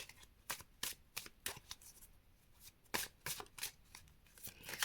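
Symbolon oracle cards are shuffled by hand in quick crisp riffles and flicks, a dozen or so sharp bursts at an uneven rhythm, close and quiet with no talking.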